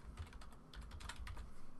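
Rapid, close clicking of keys on a computer keyboard, an uneven run of keystrokes at steady loudness, heard alone without talk.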